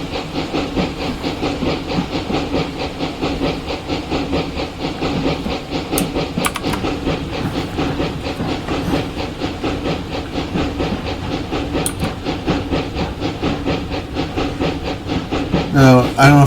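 A narrow gauge steam locomotive on the Clear Creek line in Train Simulator Classic chugs steadily with rhythmic exhaust beats over continuous hiss, loud and close throughout, and a brief sharp burst near the end.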